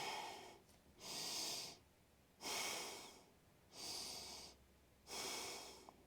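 Four slow, deep breaths taken steadily during a hatha yoga class stretching the hamstrings, each breath a soft, airy whoosh lasting about a second, separated by quiet pauses, heard close and faint with no talk.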